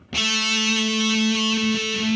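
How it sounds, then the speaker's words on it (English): Distorted heavy metal electric guitar holding a single A note at the 7th fret of the 4th string, sustained for about two seconds with gentle vibrato, loud and close, with no voices. "I'm putting some vibrato on that"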